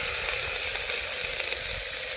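Crab gravy with onion and tomato sizzles hard in a pan over the fire, a loud continuous crackling fry close by, steady from start to finish with no talk.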